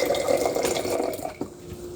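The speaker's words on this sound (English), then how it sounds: "Oh, I need to put hot water on this." Hot water pours from an electric hot pot into a cup as a steady, close splashing trickle that thins out and stops near the end.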